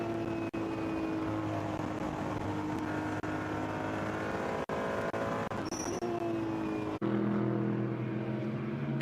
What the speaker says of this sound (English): Is there anything sweeter than the sound of a Ferrari 296 on board?